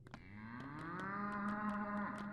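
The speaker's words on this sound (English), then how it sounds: "What the fuck is with the cow?" A cow in the video game Pathologic 2 lets out a long, low, drawn-out moo that swells and holds steady, with faint rhythmic clicks ticking over it and no speech.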